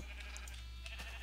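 Sheep bleating in Minecraft on a sheep breeding farm, a couple of short blocky bleats over a steady low hum, fairly quiet and without talk.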